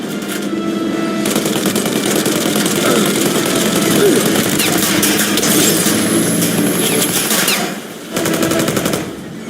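A machine gun fires in the video game Mafia: Definitive Edition in a loud, unbroken stream of rapid shots over a rumbling engine, dipping briefly near the end before resuming.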